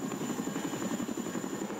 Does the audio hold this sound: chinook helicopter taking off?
yes